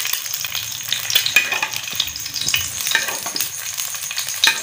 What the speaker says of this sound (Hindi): आपने साइडों से घी इसके ऊपर थोड़ा थोड़ा करके डाल दीजिए ना, घी या ऑयल जो भी आप इस्तेमाल करते हैं